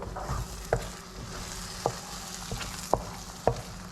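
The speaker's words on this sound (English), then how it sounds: "And I'm just trying to fold the eggs in, nothing too crazy" Scrambled eggs are folded gently in a pan over low heat, giving a soft, quiet sizzle with a few light spatula scrapes and taps scattered through.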